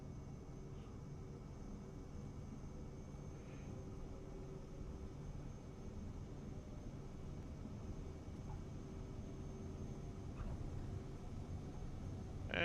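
A steady airplane engine drone and rushing noise from Microsoft Flight Simulator 2024 rolls on for the take-off run, holding even loudness and swelling slightly near the end.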